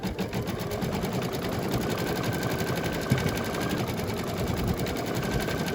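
A home embroidery machine stitching an all-over design, a fast steady mechanical rattle repeating evenly and close, without pause, no talk.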